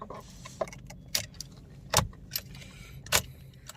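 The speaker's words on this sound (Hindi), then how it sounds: "let's just insert the key once" A key on a jangling key ring is inserted into the ignition of a 2022 Maruti Suzuki Baleno Delta, producing several close, bright metallic clinks and rattles at irregular intervals over a quiet cabin background.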